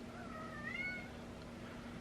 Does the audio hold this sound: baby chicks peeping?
no